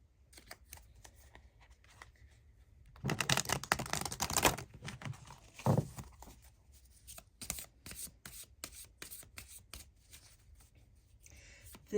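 Cards from an Earthly Souls and Spirit Moon Oracle deck being shuffled and drawn, soft papery riffles and taps, busiest in a dense burst near the middle, close and quiet.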